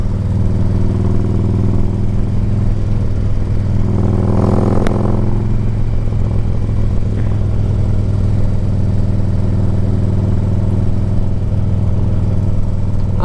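A 2008 Harley-Davidson Ultra Classic 105th Anniversary touring motorcycle rides along with a loud, steady, low engine rumble and wind roar, alone and close throughout, with a brief swell in throttle near the middle.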